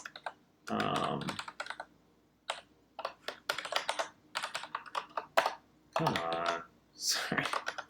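A computer keyboard clacks under quick, irregular keystrokes in a rapid close-up flurry while someone codes. A person speaks briefly between the bursts of typing.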